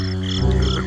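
A cartoon toad in a Thumbelina story gives a single short, loud, throaty croak, heard alone and close up.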